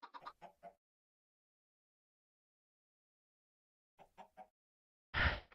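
Minecraft Skyblock chicken clucking in two short bursts of four quick clucks each, clear and close, followed by a sharp hurt squawk at the end; no talking.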